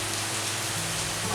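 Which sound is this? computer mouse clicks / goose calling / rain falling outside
rain falling outside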